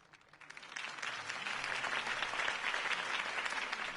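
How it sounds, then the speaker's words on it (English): A large crowd in a video game bursts into sustained applause that swells after a quiet start and keeps going steadily, dense and even throughout. "If only Mr. Wayne, my campaign's largest backer, could have heard that applause"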